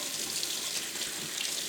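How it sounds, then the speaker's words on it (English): Tap water runs steadily over tomato seed pulp in a sink, a constant close broadband splash and hiss with no pauses and no voices. "you're going to just run some water underneath there"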